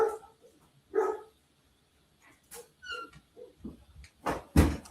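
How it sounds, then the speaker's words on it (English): A pet dog named Roman barks in a few scattered bursts indoors at close range, the loudest bark coming near the end, with quiet pauses between and no talking. "dog is barking like he's lost his mind"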